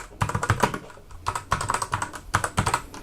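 Typing on a Redragon K655 75% mechanical keyboard: quick bursts of clacky keystrokes in short runs with brief pauses, close and crisp, no voices.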